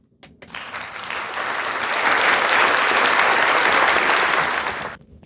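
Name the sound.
applause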